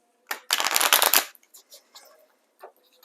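Cards from a Symbolon tarot deck being shuffled, a dense riffling burst lasting under a second, followed by a few softer scattered taps and card slides, close and fairly quiet with no talking.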